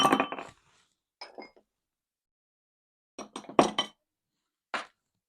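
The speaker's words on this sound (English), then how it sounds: "put in my ice" Ice cubes drop into a glass with a first clattering tumble, then scattered sharp clinks in small bursts separated by silence, close and crisp.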